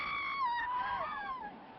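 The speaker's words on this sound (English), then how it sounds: "with my scream, I heard other screams echoing from the farthest end of the palace" Distant, echoing screams from the far end of a palace, several high wavering voices overlapping in a reverberant space, fading out after about a second and a half.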